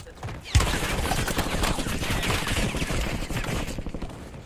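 Sustained video game gunfire starts with a sharp shot and continues as steady rapid automatic fire, fairly close and moderately loud, with some talk faintly mixed in.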